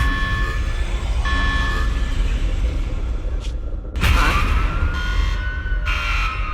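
Security alarm blaring in Zenless Zone Zero, a steady electronic wail that keeps sounding loud and close with a sudden harsh burst partway through, over a busy game soundscape with no voices.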